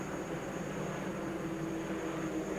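V6 race cars with two-barrel carburetors and restrictor plates, about 220 horsepower, running at full throttle on the pace lap of the 2003 Goody's Dash 150, a steady dense engine drone filling the whole clip with no pauses.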